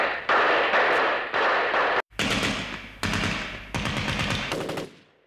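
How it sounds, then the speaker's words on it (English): Gunfire from the windows of the Czech Radio building during the battle: loud, close bursts of rapid machine-gun fire in several long rattling volleys separated by brief pauses, with no voices. "Enemy fire rings out from the building's windows."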